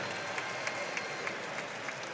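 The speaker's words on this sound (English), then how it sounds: "they're definitely clapping away" A crowd at a jiu-jitsu world championship applauds steadily after a match win, clapping filling the space at moderate level with faint crowd murmur under it.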